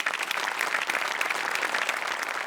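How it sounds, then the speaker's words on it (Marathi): Audience applause on a Marathi comedy show, loud and steady clapping that fills the whole stretch without a break. "जोरदार टाळ्या"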